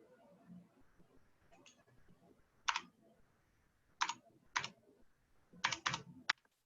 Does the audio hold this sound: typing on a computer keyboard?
yes